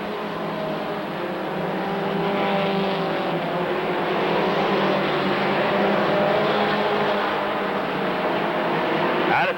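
Stock cars on the final lap at Rockford Speedway roar as a dense, continuous engine drone that swells steadily and stays loud for the whole stretch, a pack of cars running together with no pause.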